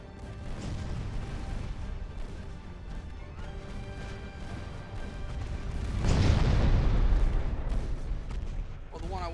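Naval guns on warships thunder in the strategy game Ultimate Admiral Dreadnoughts, with a string of heavy booms and a louder, rumbling salvo midway, mixed with in-game ambience.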